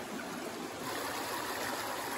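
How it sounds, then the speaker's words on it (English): A clear river flowing along the Appalachian Trail in the Carter-Moriah Range of the White Mountains, a steady broad rushing of water, close and even throughout with no voices. "Beautiful, beautiful, clear river."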